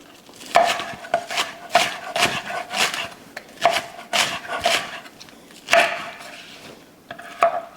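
A knife chops scallions (green onions) on a cutting board for Southern shrimp and grits, giving a close, uneven series of sharp, crisp strikes with brief pauses between bursts.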